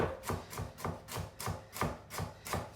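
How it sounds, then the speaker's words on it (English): A knife finely slicing a halved carrot on a cutting board: a steady run of about nine crisp chops, evenly spaced, close and clear with no talk. "finely slicing"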